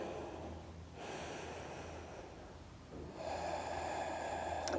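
Slow, audible breaths during a gentle yoga pose, with a long hissing inhale and a fuller exhale, close up with no voices.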